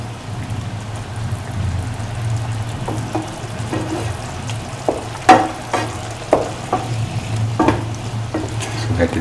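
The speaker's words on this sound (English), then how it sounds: "Keep on mixing for 10 to 15 minutes and crush in between." Dates pickle paste being stirred and crushed in a hot pan, steady sizzling under a low hum with a series of sharp scraping and pressing knocks from the spoon in the second half.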